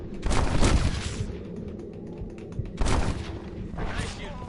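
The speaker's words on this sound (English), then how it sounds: "Nice shooting, boy." Gunfire in Red Dead Redemption: two or three loud, rolling bursts of shots with a booming tail, separated by quieter stretches with game ambience.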